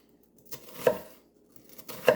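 A kitchen knife slices an onion on a cutting board: two crisp close chops about a second apart, with quiet between and no talk.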